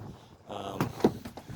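Door on a 2021 Bentley Cruise 220 pontoon boat being shut, two quick knocking clunks close by, with someone talking around them.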